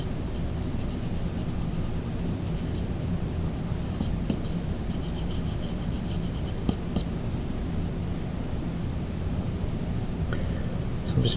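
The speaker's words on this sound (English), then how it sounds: "Let me just erase some of these extra lines here." Pencil lines are erased on paper from a drawing of an eye, giving a continuous close scratchy rubbing with a few sharper strokes throughout, steady and fairly loud.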